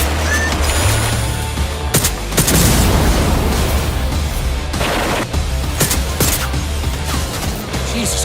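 A nail gun fires in a video game trailer, with repeated sharp bangs and heavy booming impacts scattered through a dense, loud mix of action effects and music.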